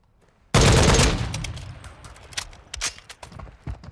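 A Knights SR-25 rifle fires a loud sustained full-auto burst in Call of Duty Modern Warfare II, the opening salvo dense and close, then trailing off into scattered shots and reverberating clatter.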